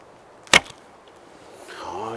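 Arrow shot from a Nomad L7 laminated Turkish bow with a bit cutter: one sharp, sudden snap of the release, followed by a faint whir and a rising hum, quiet otherwise.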